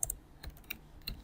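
Quick keystrokes on a computer keyboard, a handful of sharp clicks spaced unevenly over about a second, close and fairly quiet with no voices.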